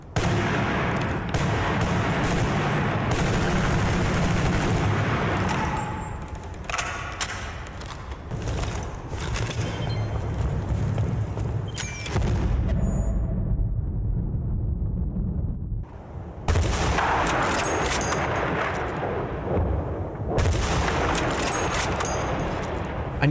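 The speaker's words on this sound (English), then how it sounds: "gobsmacked by the way the weapons sounded when you fired them indoors" Weapons fired indoors in a Battlefield video game: dense, loud bursts of automatic gunfire and booming blasts that echo heavily, with short pauses between volleys and no talking.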